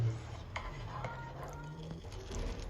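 King prawn fried rice with peas, crushed chili and scrambled egg is stirred in a pan, giving soft scraping and light clinks against the metal under a low kitchen rumble.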